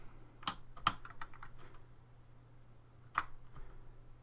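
Scattered keystrokes on a computer keyboard as a file is renamed, a quick cluster of clicks followed by a pause and a few more isolated taps, close and fairly quiet over a steady low hum.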